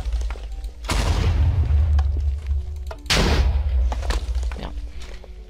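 Two heavy booming blasts from fireball explosions in Minecraft, each a loud, deep rumbling burst that lingers and trails off, spaced a couple of seconds apart.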